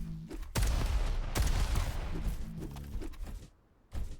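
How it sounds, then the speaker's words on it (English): Rockets firing in the Diabotical arena shooter, a burst of booming blasts and explosive impacts in quick succession, loud and dense, then a brief lull before one more hit. "Around the corner comes some rockets."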